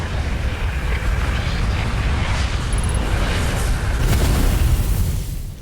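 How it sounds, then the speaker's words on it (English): A supernova explosion in the space game Outer Wilds: a loud, sustained, broadband roar with a deep rumbling low end that swells slightly before trailing off. "Supernova!"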